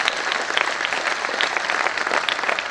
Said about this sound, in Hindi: मैं आपसे पुनः आग्रह करूंगा कि एक बार बहुत जोरदार करतल ध्वनियों से विजेश कुमार जी का